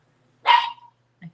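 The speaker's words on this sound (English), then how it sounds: "We have barks." A single sharp dog bark rings out close by in a quiet home, followed a moment later by a faint short yip.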